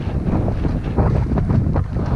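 Strong wind buffets the microphone on an icy early-spring mountain hike, a loud, continuous roaring rumble with gusty surges and no speech.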